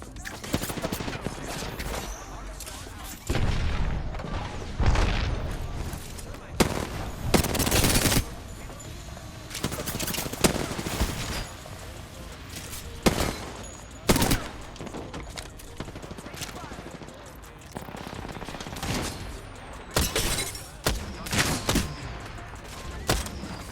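Video game gunfire crackles in rapid bursts and fusillades, loud and close, with short pauses between volleys and occasional voices talking between the shots.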